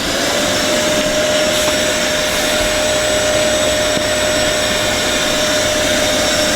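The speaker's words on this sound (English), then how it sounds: "Why is Connor, a man of many talents, doing the hoovering?" A vacuum cleaner runs steadily inside a Sprinter van. The loud, continuous whine stays even throughout with a constant tonal hum and no breaks, and no one speaks.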